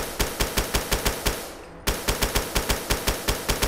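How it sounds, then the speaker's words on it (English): A New Vegas-style service rifle fires in a Fallout game, a steady rhythm of sharp, loud shots that pauses briefly midway and then resumes at the same pace, with no talking. "New Vegas style service rifle."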